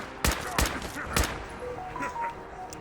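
Three heavy gunshots ring out in quick succession in Fallout 4, each with a sharp, booming crack, followed by quieter game effects and chimes as the firing stops.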